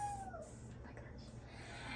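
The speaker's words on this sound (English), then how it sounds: "him meowing in the background" A house cat gives a single faint, falling meow at the very start, in a quiet room with low background hum.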